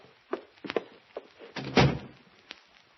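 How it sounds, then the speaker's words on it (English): Grace closing a door in an old film scene, a string of knocks and thumps ending in one heavier shut, moderately close with no speech over it. "Close that door, Grace"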